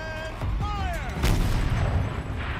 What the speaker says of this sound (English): So this was the explosion I've heard earlier?